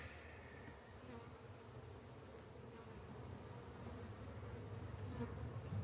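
Honeybees at an opened swarm hive buzz steadily and densely throughout, a close continuous drone that grows slightly louder toward the end, with no talking.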